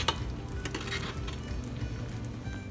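Strawberry cake filling of hot sugar and fruit simmering in a pot, a steady low bubbling and sizzling with occasional light clinks of a spoon against the pan, close and moderately loud throughout.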